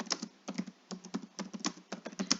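Quick, irregular keystrokes clatter on a computer keyboard, a burst of close but quiet typing with short pauses between clusters of key presses.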